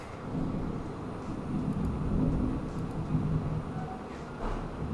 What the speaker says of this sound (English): oh shit, it's actually thundering outside